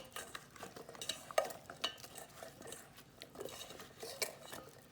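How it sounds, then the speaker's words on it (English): Beets being tossed in olive oil in a bowl, with soft repeated stirring and scraping clinks of a utensil against the bowl, fairly quiet and close, no talking. "we want to toss the beets nicely in the olive oil"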